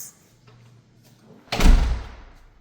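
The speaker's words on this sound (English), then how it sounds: "Nice big solid wood door." A big solid wood front door in a house with Austin stone and hardwood floors swings shut with one heavy, close thud and a short rumbling decay after a quiet lead-in, with no voices.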